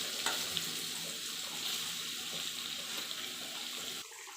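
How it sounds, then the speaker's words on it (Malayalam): Spiced anchovies (kozhuva) coated in masala fry steadily in hot oil with curry leaves, a continuous bright sizzle and crackle held close, ending abruptly near the finish. "കുറച്ച് മസാല പുരട്ടിയ കൊഴുവ ഫ്രൈ ചെയ്യാനായി ഇട്ട് കൊടുക്കുവാണ്"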